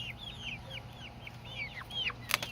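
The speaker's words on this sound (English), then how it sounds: "It's a different kind of bird." Chickens on a homestead, a different kind from the other fowl, clucking in a quick series of short, falling chirps at close range, with a louder burst near the end.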